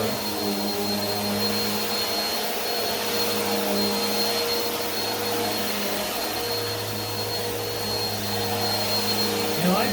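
Steady, loud motor drone with a tonal hum from a Bissell Powerforce Helix 2191U upright vacuum cleaner, running continuously with slight shifts in pitch as it moves.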